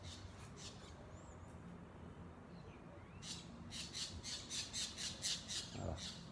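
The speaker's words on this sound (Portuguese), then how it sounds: "É um casal de periquitos." A pair of parakeets squawks outdoors in a rapid run of harsh, fairly faint calls, picking up in a rhythmic series toward the end over a steady background hiss.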